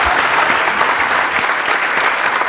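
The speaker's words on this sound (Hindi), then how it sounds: "big round of applause for both of them" An audience claps steadily and loudly, a dense continuous wash of applause from a crowd for two volunteers at a fun science show, with no voices over it.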